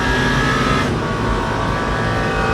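A Cadillac race car engine in the Le Mans Ultimate game at the 24 Hours of Le Mans, a loud, steady, dense roar with a higher whine that cuts out partway through.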